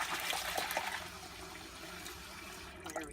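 Split peas are rinsed in a pot under running water, making a continuous close splashing and trickling wash with a few small sloshes and no talk.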